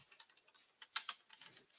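Quick keystrokes on a computer keyboard while writing Java code, a run of light clicks with one sharper tap near the middle, heard alone and fairly faint.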